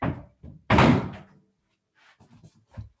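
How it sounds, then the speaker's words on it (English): A door banged by the wind is pulled shut with one loud, close slam, preceded by a couple of softer knocks and followed by faint rattles and light thuds. "I'm gonna close my door. I don't know if you can hear that, but the wind is banging it."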